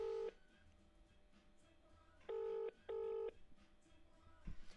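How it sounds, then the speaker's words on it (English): A telephone call is being dialed: three loud touch-tone beeps sound alone, one short, then a pair spaced close together, over a faint background hum. "Let me just give him a ring, guys."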